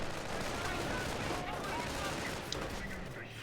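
Dense rifle gunfire from the World War II strategy game Company of Heroes, a continuous rattle of overlapping shots mixed with battle noise, with a commentator talking over it.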